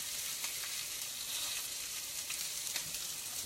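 Butter sizzling steadily in a hot pan while a red wine reduction is started alongside a grilled fillet, a dense even crackle with small pops, close and continuous, no talking.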